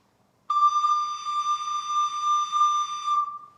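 A single sustained recorder note D, clear and steady with bright overtones, held for about three seconds after a brief silence, played alone and close.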